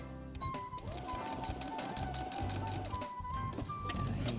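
A sewing machine runs a seam forward and backward, its motor whining in short, shifting bursts with a few clicks between passes.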